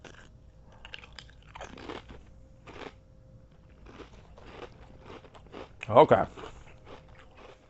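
Crunching bites and chewing of Nissin black pepper crab chips, a series of crisp close crackles spread across the clip with one louder bite near the end, and a brief spoken word among them.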